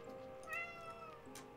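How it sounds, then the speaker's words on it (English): A domestic cat gives a single drawn-out meow, fairly faint and alone in a quiet room, with a brief softer sound near the end. "Cat agrees, apparently."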